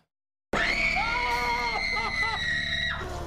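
People scream in a haunted house. A sudden, loud, shrill scream cuts in after a moment of silence, with overlapping cries that waver and hold for several seconds before easing slightly.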